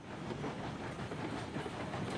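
A steam-era train in the Railroads Online game rolling slowly up a slight grade, making a steady, dense rumble and hiss of wheels on rails that goes on without a break.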